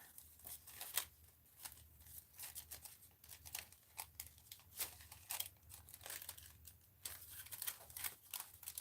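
Scissors snip through paper for a craft project in a quiet room, giving a series of close, crisp cuts and crinkles at an irregular pace, with a low hum underneath.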